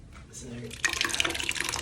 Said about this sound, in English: we'll fill up the bucket now from the tap